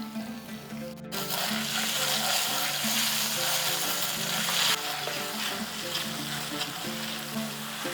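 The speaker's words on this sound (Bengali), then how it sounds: "আদা বাটাটাকে হালকা একটু ভাজা ভাজা করে নিয়েছি" Ginger paste frying in a pan for a vegetarian dish gives a steady, close sizzle with faint stirring scrapes, starting after a brief break and holding an even level throughout.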